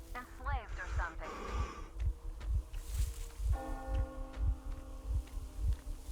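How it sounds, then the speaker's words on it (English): A bell tolls in the video game Metro Exodus, its clear ringing tone entering partway through. It sits over a throbbing, heartbeat-like low pulse and a steady hum, with faint in-game voice sounds early on. "Do you hear that bell?"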